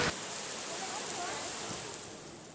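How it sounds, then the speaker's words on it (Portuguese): A heavy rainstorm downpour hisses in a broad, steady wash of noise, loud and continuous, with a faint voice briefly audible underneath. "Que perigo e que chuvarada"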